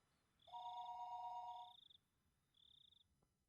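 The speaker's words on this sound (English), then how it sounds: "the phone began to ring again" A telephone rings in a visual novel video game, giving a long electronic trill followed by a shorter second ring, clear and moderately quiet, with no voices.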